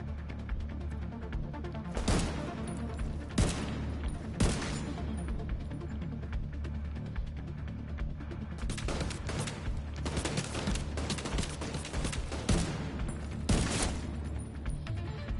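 Gunfire from a gun in The Division 2, sharp bursts of shots fired in irregular clusters and rapid strings over a steady game background, moderately loud, with no speech.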